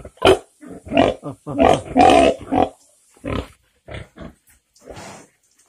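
Pigs grunting in a series of short, close, uneven bursts with brief pauses between them, loud at first and fading toward the end.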